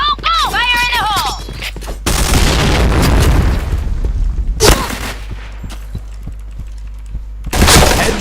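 Grenade blasts from the video game Valorant land as loud, sudden booms with a crackling, shattering tail, arriving in several separate bursts amid game effects.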